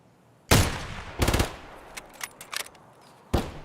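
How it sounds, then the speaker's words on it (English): Video game gunfire from an online shooter: a sharp single shot, then a rapid automatic burst and scattered smaller pops, ending with another loud close shot, no talking. "I'm getting shot at from multiple sides, dude."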